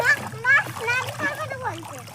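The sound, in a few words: child splashing in water on a rooftop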